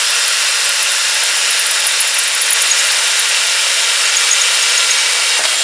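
A power drill bores holes for mounting accessories on a Keeway RKV125 motorcycle, giving a steady, loud, continuous high-pitched whine and grind with no pauses, alone and close by.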